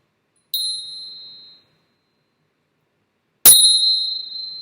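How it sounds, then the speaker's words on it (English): Two separate metallic chime strikes, each with a bright ringing tone that decays slowly, the second louder and sustained to the end; the tones clash in a dissonant way and no one speaks. "I also have these chimes that I want to incorporate, but listen to them. They're kind of really dissonant."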